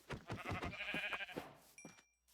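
Sheep in the Minecraft video game bleat in a short wavering call, close and clear, fading into a brief tail of quiet.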